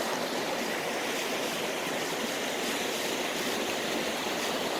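Steady running water of a small stream in an outdoor hidden spot, a continuous broadband rush and babble that stays even and fairly close throughout, with no voices.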